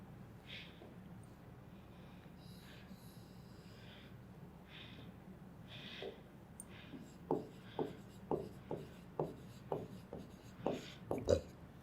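Pen or pencil on paper counting marks, a run of quiet scratches that turns into a steady series of short, distinct tapping strokes near the end.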